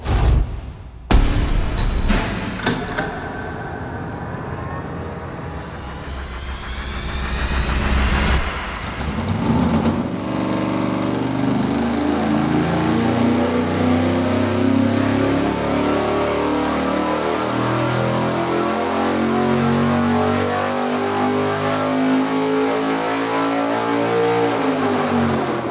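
A small-block Chevy V8 on an engine dyno cranks and fires, revs briefly, then settles into a steady, loud, rumbling idle that continues throughout with no talking.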